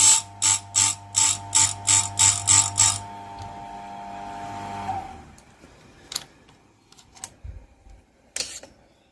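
A chainsaw chain being sharpened on a grinder: a quick series of about ten even, rhythmic grinding passes, a short whirring spin-down, then scattered clicks and taps as the chain is adjusted.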